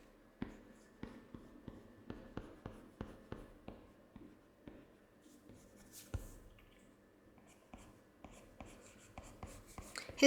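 Pencil strokes scratching across paper during a rough sketch, a steady run of short, close, soft scrapes in an even rhythm with brief pauses, quiet and alone.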